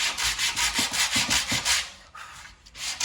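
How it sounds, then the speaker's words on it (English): New sandpaper rubs back and forth over a new wooden window sash in quick rhythmic strokes, close and scratchy, a steady run of passes followed by a brief pause and a few more. "So I'm gonna sand it down to it,"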